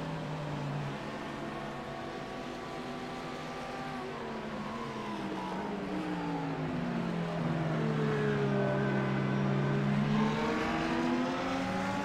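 Audi GT3 race car engine at Daytona in a racing video game, a loud, continuous drone with rising and falling pitch as the car holds speed, with no speech.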